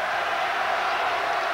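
A basketball arena crowd at a 1993 Indiana at Michigan game roars in a steady, dense wash of cheering that fills the whole stretch without dropping.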